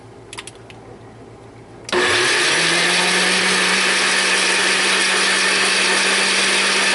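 Black cherries are pureed in a blender for winemaking: after a few soft clicks the motor starts abruptly and runs as a loud, steady whir with a constant grinding hum until the end.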